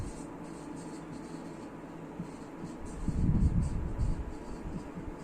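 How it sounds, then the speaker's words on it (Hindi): A pen or marker scratches out the definition of permutation during a Class 11 maths lesson on permutations and combinations. The strokes are faint and continuous over steady room hiss, with a busier burst of writing near the middle. "तो यस नाउ अब हम परम्यूटेशन की डेफिनेशन लिखेंगे।"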